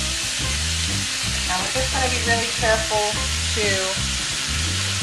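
Chilli sizzling hard in a pan over high heat, a loud, steady close frying hiss with stirring scrapes and a brief spoken word.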